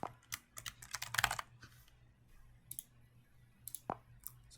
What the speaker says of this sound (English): we are going to type in the desired account information